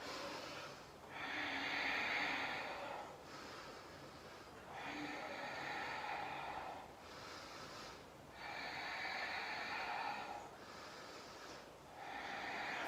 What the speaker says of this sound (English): we hold here, deeply inhaling and exhaling